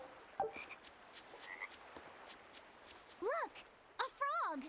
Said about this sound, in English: Look! A frog!